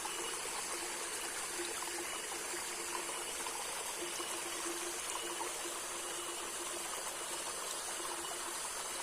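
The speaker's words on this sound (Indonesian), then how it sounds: "Ini menggunakan talang bambu ya. Airnya dari sini, dari pegunungan, dan mengalirnya ke bawah sana tuh." Mountain water runs through a bamboo gutter with a steady, soft trickling and splashing flow, faint and unbroken throughout, with a slight ticking rhythm in the stream.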